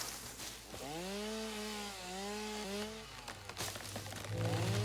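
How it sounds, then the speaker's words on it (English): A chainsaw revs in the Satisfactory video game, a sustained whining buzz that rises and falls in pitch over several seconds, loud and close, then drops into a lower rough idle. "Shooting myself with a chainsaw."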